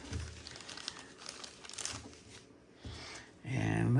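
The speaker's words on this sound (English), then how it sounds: "Open that gingerly as I rip open this." Plastic and cardboard packaging of an exclusive toy robot is ripped and crinkled open by hand, a bursty crackling tear lasting several seconds with a louder, closer rustle at the end.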